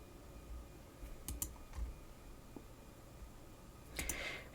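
Sharp computer mouse clicks at a desk while working in modding software, a few quick isolated taps spread across the stretch, faint and close over a low background hum.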